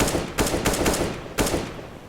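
Wall bang gunshots fired through a wall in Counter-Strike, three or four loud sharp reports in quick succession, then a pause and one more shot, heard alone without talk.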